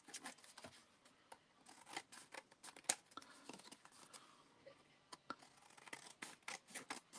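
Scissors snip white edges from a stamped handmade thank-you card, a run of short sharp cuts and paper rustles in an irregular rhythm, close and fairly quiet, with no talking.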